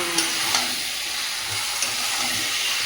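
Potatoes and meat frying and being stirred in a pan, a steady loud sizzle with occasional scraping stirs, close up.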